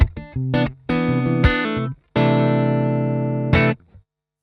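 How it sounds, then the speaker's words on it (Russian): Electric guitar on a clean tone with a Mooer E7 synth pedal switched off: a few short picked notes and chords ring out, then a longer sustained chord fades, close and clear with no talking. "гитара просто на чистом звуке звучит так, с выключенной педалью."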